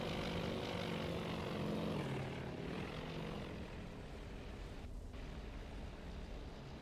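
A continuous propeller aircraft drone comes from planes attacking a light carrier in the naval strategy game Task Force Admiral. The roar eases slightly partway through, and a brief noisy burst cuts in near the end.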